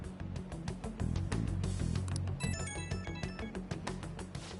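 A phone rings in the video game Persona 5 Royal with a repeating electronic ringtone melody set against loud, busy game music and crowd ambience, continuous and close.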